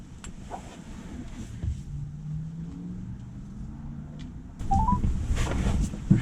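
Telephone keypad dialing a 1-800 customer assistance number from beside a Tesla with a CHAdeMO adapter: a few short tones stand out over a quiet low hum, the clearest near the end amid louder rustling.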